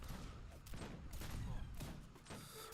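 Massed musket-style gunfire from filibuster units volleying at Moorish troops in a strategy video game battle, a dense continuous crackle with several louder bursts, mixed with game sounds and some voice.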